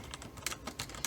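Quick, close keystrokes clatter on a computer keyboard as someone types a message, a short run of irregular taps heard alone.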